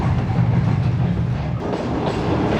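The Shalimar Express rolls toward Toba Tek Singh station with a loud, steady rumble of wheels and carriages and a rhythmic clatter over the rails, heard close up without voices.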